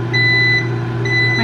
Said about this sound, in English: My oven's ready.